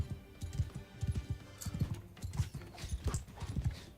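Horse hooves clop in the Mount and Blade game Total Conflict: Resistance, a quick, rhythmic galloping beat, fairly faint, with no one talking.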